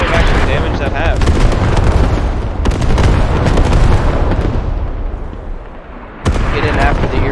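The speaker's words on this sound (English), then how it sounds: "Artillery strike might have actually damaged that hab" Dense, continuous barrage of artillery explosions and gunfire in the game Squad, loud and sustained, with heavy booms and sharp cracks throughout, a brief lull near the end before another burst.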